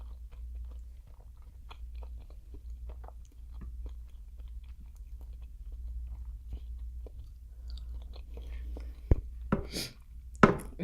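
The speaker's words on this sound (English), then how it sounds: "let me taste this potato" Close, soft chewing of a boiled potato from a seafood boil, quiet wet mouth sounds over a low steady hum, ending with a couple of louder crunchy bites.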